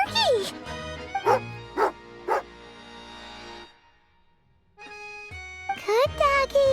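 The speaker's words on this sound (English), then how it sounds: "Good doggy. Good doggy." Barks and soft whimpers from a dog in the Genshin Impact video game. Several short bright yelps sound up close over background game music, with a pause of near silence midway and a final cluster of whining yips.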